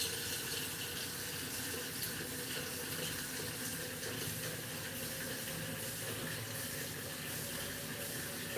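Water runs steadily from a tap into a sink to soak an empty peanut butter jar, a constant close rushing hiss with no pauses and no voices.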